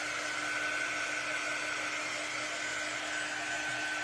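A hair dryer blows steadily over glitter-covered holiday trees, giving a constant, even whoosh with a faint whine and no change in pitch or level throughout.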